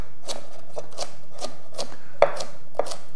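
Chef's knife chopping through rinsed salad vegetables on a cutting board, a series of soft rhythmic cuts about every half second with two sharper knocks near the end, close and moderately quiet, no talking.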